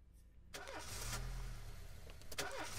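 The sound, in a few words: car engine failing to start in This Is The Police video game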